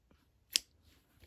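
A single sharp snip of scissors cutting through yarn during crochet work, close and quiet, a brief crisp click in an otherwise hushed room.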